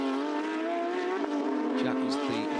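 A Porsche Carrera Cup Asia race car at the Ningbo circuit holds a loud, sustained engine howl that rises slightly in pitch as it passes, with a commentator talking over it.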